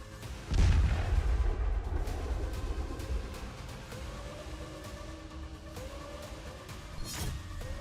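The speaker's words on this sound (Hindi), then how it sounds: "पूर्वी यूक्रेन में रूसी आर्मी आग बरसा रही है" A heavy boom of Russian artillery fire in eastern Ukraine, a single loud deep blast followed by a long rumbling decay, with a second fainter thump near the end, heard alone without voices.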